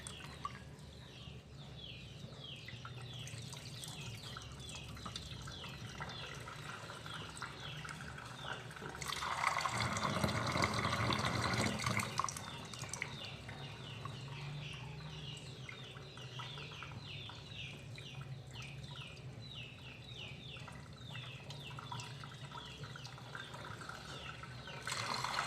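Dehulled soybeans being rinsed in water for tempe, with a steady wet sloshing and trickling throughout and a louder splashing surge in the middle, while birds and a rooster call faintly in the background.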